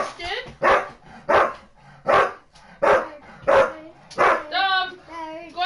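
A pet dog indoors at home barks in a loud, even run of about seven barks, close by, with a bit of voice at the end.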